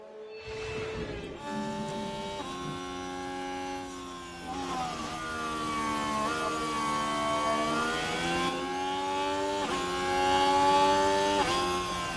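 A Formula 1 car engine from the racing management game F1 Manager 24, late in the Spanish Grand Prix with a mechanical fault, drones loud and steady with shifting pitch as it revs, rising and falling without any talk.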